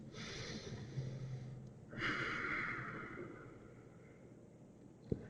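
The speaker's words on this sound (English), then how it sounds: "same deep breaths" Slow, deep breaths during a yoga twist, a soft long exhale followed by a fuller airy inhale, close and quiet, ending with a small tap.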